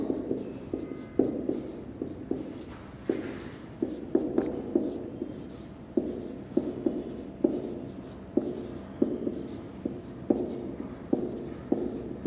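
Chalk or marker writing on a board during an accounts lecture, steady scratchy strokes in short bursts repeating through the whole stretch, fairly close, with no talking over them.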